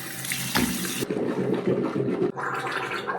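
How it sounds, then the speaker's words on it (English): Water swishes and sloshes through the mouth during a rinse at a bathroom sink, a close, continuous wet churning with a gurgling burst partway through and a brief gap before it resumes. "First, I rinse with water"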